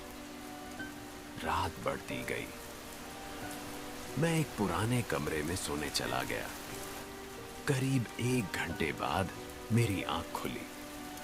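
Heavy rain falls outside in a steady, even wash that runs the whole time while someone narrates in several bursts over it.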